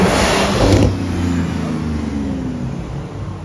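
A Porsche GT2 RS sports car revs on a London street, a loud close engine burst up front that eases into a fading, lower drone as it moves away.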